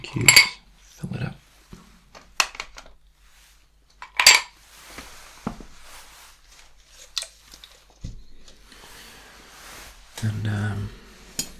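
Ice cubes clink and rattle into a glass at a bar setting: several sharp, bright clatters scattered across the span, a few louder knocks among softer taps and rustles, with a low hum near the end.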